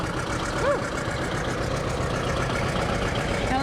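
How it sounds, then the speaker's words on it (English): A diesel John Deere 820 tractor idles at a fall fair parade in Port Alberni, its steady low engine rumble running continuously and fairly close throughout. "Here we have a diesel John Deere 820."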